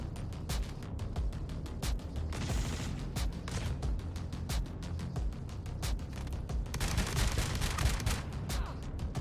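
Rapid gunfire in the Star Citizen video game, dense bursts of sharp shots with heavier booming impacts, continuous and loud over several seconds with no speech.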